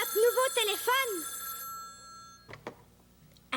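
A new telephone rings with a warbling electronic bell for about a second, then a voice speaks briefly before clattering handling noises as the receiver is picked up.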